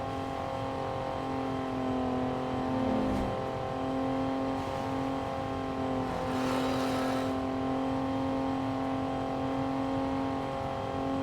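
Steady in-game car engine drone from Pursuit Force, a sustained mid-pitched hum holding level throughout with a brief surge of noise midway, no talking.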